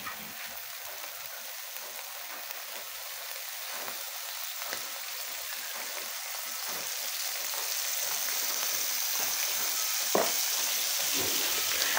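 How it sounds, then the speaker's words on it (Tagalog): Oil sizzles and crackles in a pan while chop suey with young corn is being cooked, a continuous close frying hiss that grows slightly louder, with one sharp pop near the end and no talking. "Lagyan na natin ito ng mantika."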